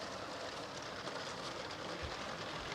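A LEGO high-speed passenger train runs through a model train station with a steady, dense rumble and faint clatter that holds level throughout, close and fairly quiet.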